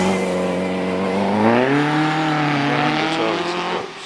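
A Bugatti Type 51 racing car climbs a hillclimb course, its engine note rising through the gears in a loud, sustained roar with a shift partway through.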